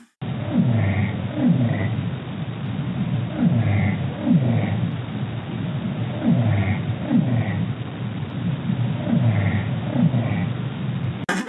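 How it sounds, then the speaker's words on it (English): An Arctic minke whale bioduck call repeats in regular bursts, each a quick series of low descending pulses followed by faint higher quacking tones, cycling rhythmically about every three seconds over an underwater hiss. "this is the sound the Arctic minke whale produces. It's been described as a bioduck"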